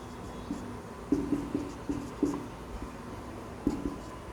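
Chalk or marker writing on a board gives a series of short, distinct taps and strokes in an uneven rhythm over a steady low room hum, with no talking.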